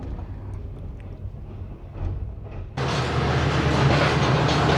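Shalimar Express passenger train running on Pakistan's ML1 line between Karachi and Lahore, a muffled steady rumble that suddenly swells into a loud, close roar of wheels on rails, continuous to the end.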